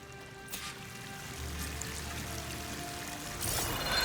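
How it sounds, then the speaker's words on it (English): A waterfall in the video game Horizon Forbidden West, a steady pouring rush of water with a faint low hum beneath, swelling slightly louder toward the end. "The waterfall must be coming from somewhere"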